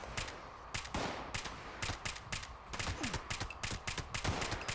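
Gunfire in the online game Fallout 76, sharp shots and quick bursts crackling repeatedly in irregular clusters, fairly close and loud, with almost no talking over it.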